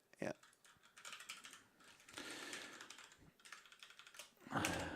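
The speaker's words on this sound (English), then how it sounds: "a little bit of typing from our side now" Rapid keyboard typing from a commentator's desk during a Dorfkrug Cup gaming tournament broadcast: dense, close clicks in irregular bursts with a louder tap near the end, over a low room background and faint voice.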